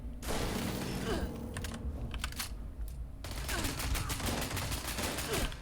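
Rapid gunfire in Fallout 76, dense bursts of close, loud shots rattling in quick succession with a short lull midway before the firing resumes.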